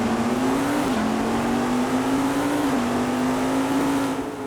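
Race cars roar off the line at the start of the Adelaide 500 in a racing video game, a loud, steady engine drone with rising and falling revs over several seconds and no talking.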